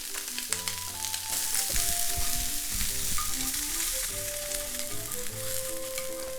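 Garlic, ginger and scallion sizzle steadily in a hot pan, a dense, continuous frying crackle with occasional stirring, set against tonal background music.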